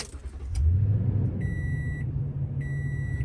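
A Tesla-style car powering up on a warm 82-degree day, a steady low rumble and hum rising at start-up, with a short tonal chime repeating twice over it, close and even.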